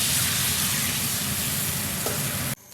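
Fish fried in hot oil in a big wok, a loud, close, steady sizzle and crackle that cuts off abruptly at the end.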